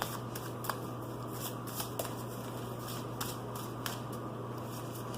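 Tarot cards being shuffled by hand, a steady papery riffling and sliding with small repeated flicks, close and alone over a low constant hum.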